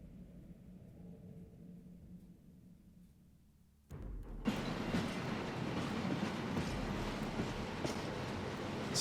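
A train moving through a train yard in the video game Hitman 3: quiet low rumble at first, then from about four seconds a loud, steady rolling clatter of wheels on rails builds and fills the rest of the clip.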